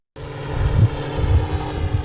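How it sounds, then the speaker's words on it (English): Drone flying over Fort Drum military training grounds, a steady buzzing propeller drone that starts abruptly and holds at a fairly close, even level, with slight fluctuations in its hum. "This drone flying over Fort Drum training grounds is simulating an enemy attack"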